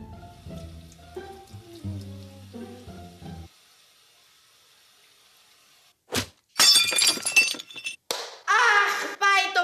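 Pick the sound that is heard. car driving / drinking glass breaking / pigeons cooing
drinking glass breaking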